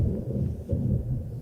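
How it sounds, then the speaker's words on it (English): Low rolling thunder from a thunderstorm, a deep, muffled rumble that swells and fades in waves, steady and fairly loud with no talk. "We're in the middle of a thunderstorm here."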